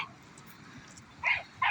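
Dogs at play let out a couple of short, sharp barks near the end, two quick bursts over a steady background hum.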